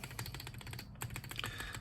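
Mechanical keyboard fitted with a Cerakeys spacebar, typed on in a fast, even run of close, crisp clacks with a brief pause in the middle before the keystrokes resume.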